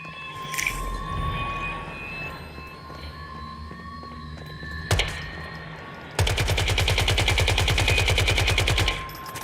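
Gunfire in the video game Once Human: a single sharp shot mid-way, then a sustained rapid automatic burst lasting about three seconds, loud over a low ambient game background.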